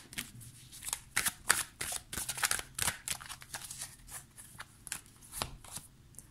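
A deck of oracle cards, 50 nuances de ma flamme, is shuffled by hand in rapid riffling bursts, crisp papery flicks repeating irregularly, close and quiet with no talk.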